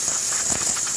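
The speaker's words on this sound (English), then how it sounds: "there's extremely good steam pressure coming out of the machine" A Pasquini Livia 90 espresso machine, freshly fitted with a new relay, blasts steam in a loud, steady hiss throughout, close up with no voices.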